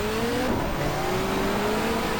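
A touring car engine in the GTR2 racing game, dropped to first gear for a tight hairpin, holds a steady, loud rising whine that climbs smoothly over about two seconds with no talking.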